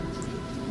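Rain falling outdoors at the CERN site, a soft, steady patter with no talk over it.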